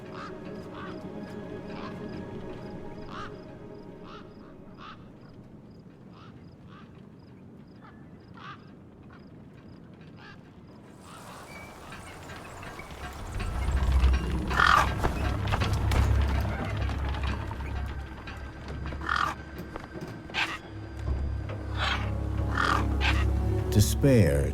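Scavenger gang birds in the wasteland of the video game Beyond a Steel Sky, repeated cawing and quacking calls at a distance, thin and quiet at first, then louder and denser over a rumbling ambient background from midway on.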